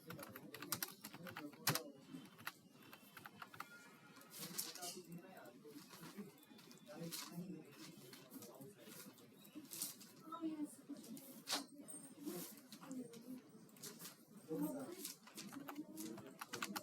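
Rapid clicking keystrokes on a computer keyboard while entering data into an Excel sheet, an irregular patter of close taps running throughout beneath a person speaking.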